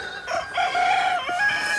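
Newly hatched waterfowl chick, a week old, giving a few close, high-pitched peeping calls in quick succession, clear and loud with no talking.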